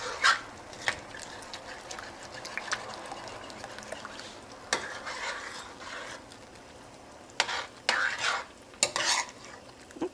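Chicken in a creamy mushroom sauce with sour cream and thyme being stirred in a pan: scraping utensil strokes and a soft simmering sizzle, with louder clustered stirring bursts near the end.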